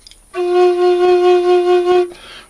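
A homemade bamboo flute tuned to F sharp, blown normally, sounds one steady breathy note for about two seconds, loud and close, with a gentle wavering pulse.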